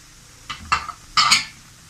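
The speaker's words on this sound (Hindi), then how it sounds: "ये अब हम इसमें सूजी ऐड करेंगे। साथ ही हमने इसमें बेसन डाल देना है।" Semolina and gram flour tipped into a pan of oil, heard as a few brief close scraping and clinking knocks of utensil against the pan, with no voices.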